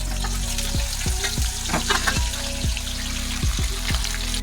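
Unpeeled garlic cloves fry in hot oil at home with a steady crackling sizzle, punctuated by repeated clunks of stirring throughout, close and continuous.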